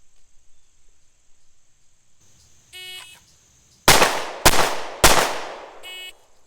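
A Smith & Wesson M&P40 handgun is fired three times with the primary hand only during a California law-enforcement qualification: electronic beeps, then three sharp, loud shots about half a second apart, each trailing off, followed by another beep.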